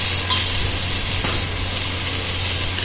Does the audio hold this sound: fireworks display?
no